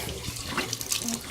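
Tap water runs steadily from a faucet into a sink while hands are rinsed, close and fairly loud, with brief splashing changes as the hands move under the stream.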